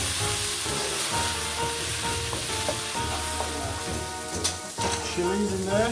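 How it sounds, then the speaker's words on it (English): Garlic paste fries in a pan with a steady, dense sizzle and some stirring, loud and close, while faint tones ring in the background. "And garlic paste. And just cook that in now for a further couple of minutes"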